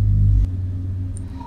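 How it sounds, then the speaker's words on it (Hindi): A deep thunder rumble for a Hindi horror story: a heavy low roll that cuts off sharply after about half a second, then fades into a dim, low background murmur. "आसमान में बिजली कड़की"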